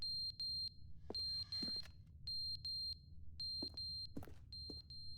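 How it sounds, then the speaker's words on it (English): A fire alarm in the video game The Stanley Parable blares with a steady, insistent electronic beeping that repeats in loud bursts throughout, with brief louder tones cutting in among the repeating pattern. "Fire alarm's going off."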